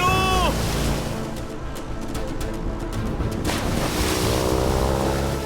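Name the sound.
cyclone at sea with waves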